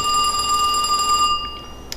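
A telephone rings with a steady electronic tone that sustains for over a second, then cuts off, leaving faint room noise and a couple of soft clicks.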